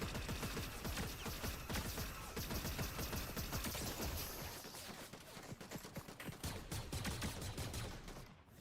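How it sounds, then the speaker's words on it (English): Dense, continuous gunfire from a video game, with rapid bursts and overlapping shots that stay loud and close for the whole stretch, thinning slightly in the middle before surging again. "Oh, they're shooting me from the other side"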